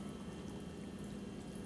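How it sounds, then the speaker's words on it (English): Runny persimmon pudding pours into a glass bowl, giving a soft, steady, continuous liquid rush with no pauses. "So I'm just going to pour the pudding into this glass"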